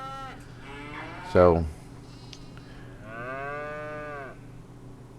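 Cattle in a yard next to a barn on a farm, loud and close: a long drawn-out moo with a short sharp bellow partway through, then a second sustained moo. One word is spoken at the start.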